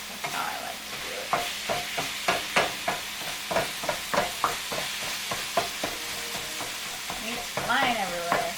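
Ground meat for lasagna fries in a pan while a utensil chops and stirs it, producing rhythmic scraping strokes roughly every third of a second over a constant close sizzle, with a brief murmur of voice near the end.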